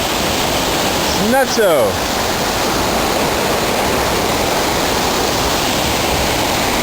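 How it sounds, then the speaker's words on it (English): A river swollen with heavy rain rushes through a ravine along the Appalachian Trail, a loud, unbroken roar of water that fills the whole clip, with a short spoken word and a brief whistling tone near the start. "Tons of rain. We're actually filling up the river down there, the ravine."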